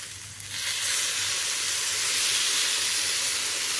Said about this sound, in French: Je vais mettre le sirop qui est encore très chaud.